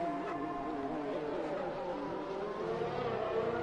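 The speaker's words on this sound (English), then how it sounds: "You could hear his McLaren just in the background" A McLaren Formula 1 car engine in F1 2021 at the Japan race, Suzuka, giving a steady, sustained high-pitched drone with shifting harmonic whine that stays loud and continuous throughout, with no voices.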